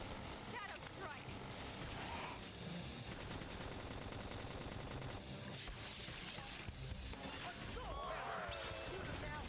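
Rapid bursts of gunfire and smashing impacts from a sci-fi battle in Xenoblade Chronicles X, loud and dense with whooshes, under overlapping voices.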